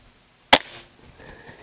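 A single suppressed air gun shot fires as one sharp, loud crack with a short hissing tail, then a quiet lull.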